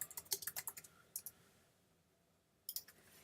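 Rapid keystrokes on a computer keyboard come in two short bursts with a quiet gap between, close and crisp with no talking.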